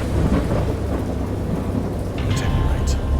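Heavy thunderstorm in the Lovecraft horror game Dagon: a continuous loud roar of rain and deep rolling thunder, with a few brighter crackling bursts near the end.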